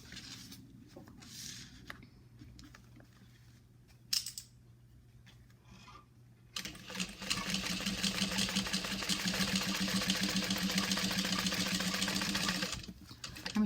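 A sewing machine fitted with a purse foot top stitches along the bottom seam of a purse, with quiet handling and a brief clack first, then a steady, loud mechanical whirring run of stitching that stops abruptly.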